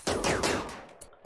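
Rapid bursts of gunfire from colonists fighting off bug swarms in RimWorld on a tomb world: several quick loud shots in a tight cluster, followed by a couple of fainter trailing pops.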